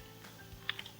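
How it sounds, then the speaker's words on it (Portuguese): Three light, quick clicks of keys on a computer's numeric keypad while modelling in Blender, faint and close over a quiet room hum, with no talking. "através do comando do numpad, vou pressionar 5 assim"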